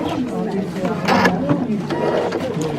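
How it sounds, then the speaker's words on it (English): A sewing machine runs across a fabric seam with a steady mechanical whirring and ticking of the needle, close and fairly loud, mixed with a brief louder rattle midway. "When you're stitching a seam, stitching across a seam, so you're just sewing across here."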